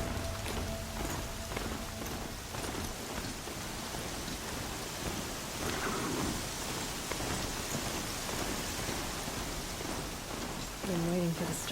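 Steady heavy rain from a storm in Horizon Zero Dawn hisses without pause, with low rumbles of thunder rolling underneath. Faint voices come in near the end.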